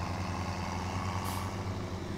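A truck in Farming Simulator 17 rumbles with a steady low engine drone, and a short, bright hiss of its air brakes cuts in briefly midway.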